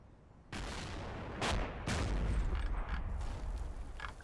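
Gunfire in the Combat Mission war game, a few sharp shots and heavy booms over a rumbling battlefield backdrop, moderately loud with no voices.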